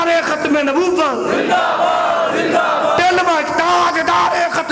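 A crowd at a religious gathering chants slogans in loud unison, with voices rising and falling in call-and-response bursts that fill the whole stretch close up.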